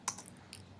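Two short bursts of keystrokes on a computer keyboard, close and fairly quiet, the first cluster brisk and the second a single lighter tap, with no talking.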